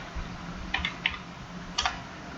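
A few scattered keystrokes tapped on a computer keyboard during caps-lock text entry in an Excel or Word tutorial, crisp and close against a low steady hum, with no talking.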